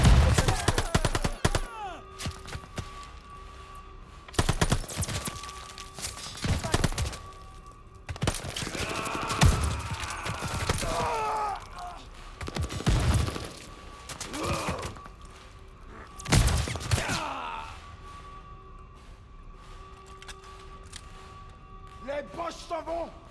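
Gunfire bursts from a Call of Duty Vanguard battle on PS5, a bunker assault: repeated loud volleys and rapid automatic fire with thuds and cracks, mixed with shouted voices and game dialogue throughout.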